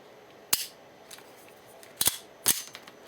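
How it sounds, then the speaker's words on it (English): A GSG / Sig Sauer 1911 .22LR pistol with a replaced grip safety is dry-fired on snap caps, giving three crisp, quiet metallic clicks. The clicks are spaced unevenly over a hushed room background. "Let's put some snap caps in there and give it a shot."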